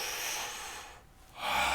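A long breath drawn in during a yoga exercise, heard close and steady, with a brief lull before a stronger inhale swells up; no one speaks.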